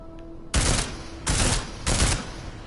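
Three loud, sustained bursts of automatic gunfire from Deus Ex: Mankind Divided, each roughly a quarter second long and separated by short pauses, with no voices.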